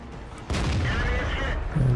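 A heavy tank cannon shot in World of Tanks, one sudden loud boom that rolls into a long, dense rumble and settles into a lower tail.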